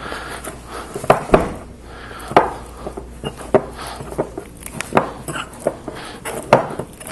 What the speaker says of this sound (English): we're just going to take a fork and kind of mash it up